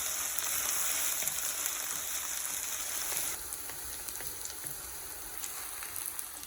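Dried herbs and spices sautéing in a pan, a dense steady crackling sizzle with faint scattered stirring ticks, softening slightly partway through.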